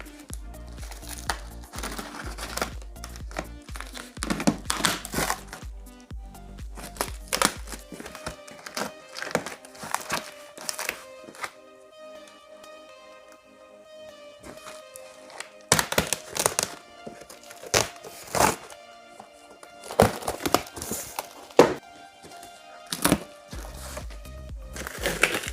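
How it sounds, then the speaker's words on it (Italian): An IBM 300GL computer's shipping box being opened: a string of close crinkles, taps and dull thumps of cardboard and packing material, broken by quieter stretches with a steady tonal hum in the background. "Proviamo ad aprire il pacco"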